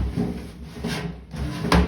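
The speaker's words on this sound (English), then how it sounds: "these veggie drawers with the slides on them" An old kitchen vegetable drawer slides in and out on its runners in a house kitchen, several close wooden rumbling strokes ending in a sharp knock as it shuts, with no talking.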